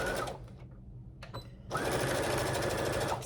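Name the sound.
sewing machine stitching a boxy fabric pouch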